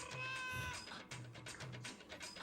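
Small kittens meow in a series of high, plaintive cries, some drawn out and overlapping, fairly close and moderately loud with no talking over them.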